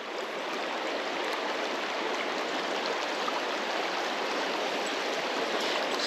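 Badger Creek flows in a steady, broad rush of water over rocks, a constant close roar with no pauses or voices.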